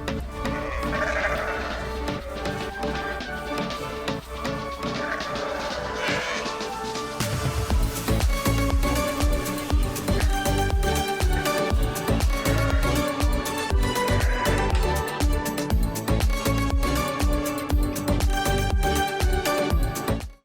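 Ewes and newborn lambs bleat in a sheepfold during lambing season, many overlapping calls near and far, steady and fairly loud throughout, with a denser, busier stretch of bleating and shuffling in the second half.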